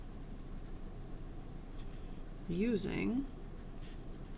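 Pen or marker scratching steadily as numbers are written by hand, a faint continuous scribble under a voice speaking briefly.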